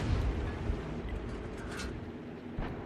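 A Birch Gun self-propelled artillery piece firing a round in World of Tanks, a deep rumbling boom with a long, noisy roll that fills the whole moment.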